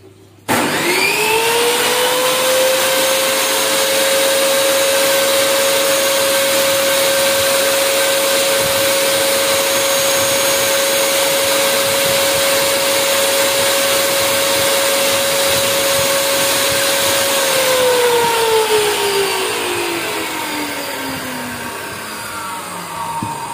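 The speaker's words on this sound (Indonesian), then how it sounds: "Nah, ini teman-teman lihat sendiri berapa desibel suara yang dia hasilkan oleh table saw ini." A Ryu RTS10 table saw spinning up and running loud and close at a steady whining pitch, holding its drone for a long stretch before the motor is switched off and winds down.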